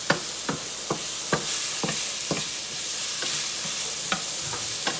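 Mushrooms sauté in a pan with garlic and red wine under a steady sizzle, while a utensil stirs and scrapes with repeated sharp clicks and taps at an irregular rhythm.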